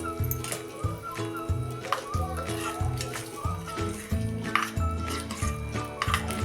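A utensil scrapes and clinks against a pan in a steady stirring rhythm, mixing a curd and potato dish with its tempering, fairly close, with no one talking.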